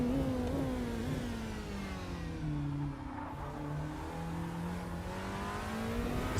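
A Porsche 963 LMDh hypercar in the Rennsport racing game revs up and down through the gears, its engine note rising and falling continuously, loud and alone.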